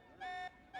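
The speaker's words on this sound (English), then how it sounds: "This alarm's worrying." A video game alarm sounds as quiet, pulsing electronic beeps that repeat in a steady on-off rhythm against a low background hum.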